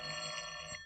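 A telephone rings once in a radio drama, a brief bright electric bell tone lasting under a second, fairly clear against quiet background.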